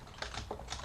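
Several quiet clicks of fingers typing on a computer keyboard, a few scattered keystrokes in under a second with no talking.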